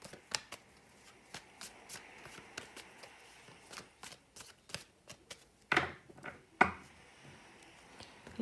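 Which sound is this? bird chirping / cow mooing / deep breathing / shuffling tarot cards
shuffling tarot cards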